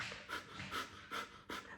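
Kapalbhati yoga breathing: four sharp, forceful nasal exhalations in an even rhythm about every 0.4 seconds, close and fairly loud, with quiet gaps between.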